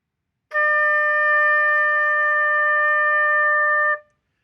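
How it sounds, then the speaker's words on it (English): A flute sounds a single sustained D, steady and pure for about three and a half seconds, then stops cleanly. It is close and alone, with no talking. "flutes will play the note D."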